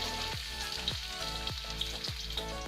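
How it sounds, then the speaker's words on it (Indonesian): Shallots and garlic fry in a little cooking oil in a hot wok, giving a steady, close sizzle with a few brief stirring scrapes and no talking. "Tumis dua bawang hingga harum"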